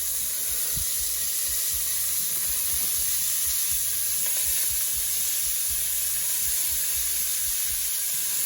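Beef mince frying in oil in a pan, browned in stages: a loud, steady sizzle with continuous hiss and occasional soft pops and stirring scrapes, close up with no talking.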